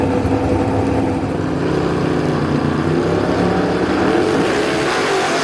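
Drag racing machines at Knoxville, a big-block-powered 1941 Willys and a Slingshot race engine, roar continuously at full throttle in a dense, loud, unbroken engine blast.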